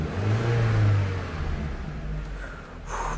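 A car engine, hot and reluctant to start, revs up with a strong low drone that then eases off and dips briefly. It is close and fairly loud, with no voices.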